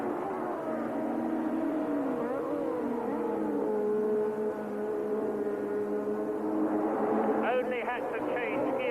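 Didier Pironi's Ferrari Formula 1 car at the 1982 South African Grand Prix screams past at a distance, its high engine whine rising and falling under continuous commentary, with gear-shift warbles near the end.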